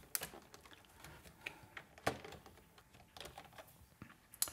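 Keys on a German computer keyboard are pressed in quick, irregular clicks and taps, close and fairly quiet, with no voices.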